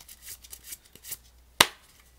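Face-down playing cards are mixed on a surface, giving soft scattered sliding and tapping sounds followed by one sharp, louder slap, all close and with no voices.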